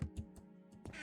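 A duck in a farming video game gives a few short, faint quacks in quick succession against a quiet background.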